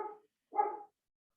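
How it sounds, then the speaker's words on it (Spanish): A pet dog barks in the background, two short muffled barks separated by a brief pause, fairly faint and alone. "Ahora está mi perra de fondo, perdón."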